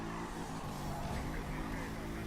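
A car drifting in the video game Need For Speed Rivals, a dense continuous engine roar with tire noise that stays loud and steady throughout, with no distinct separate events.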